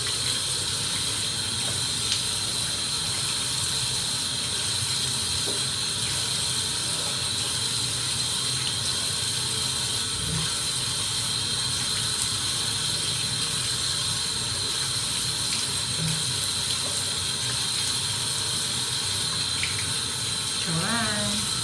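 Tap water runs steadily at a sink while a tomato and coffee face scrub is rinsed off, giving a continuous close gush with splashing. A voice talks faintly over it now and then.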